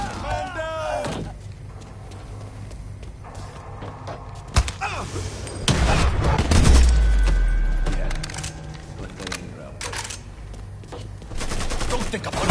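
A shootout in the video game Mafia III brings rapid bursts of gunfire and heavy thuds. Loud volleys and scattered single shots overlap with a low rumbling impact, and shouting voices break in at moments.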